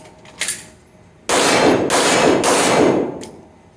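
Pistol shots fired during an indoor range drill: three sharp, loud reports in quick succession, each ringing out in the enclosed room, after a fainter knock.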